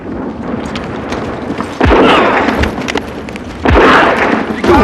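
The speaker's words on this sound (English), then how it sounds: "Look out! Bombs!" Two heavy bomb explosions land a couple of seconds apart on a wartime battlefield, each a deep, loud thud that rolls out into a rumbling roar over constant battle noise.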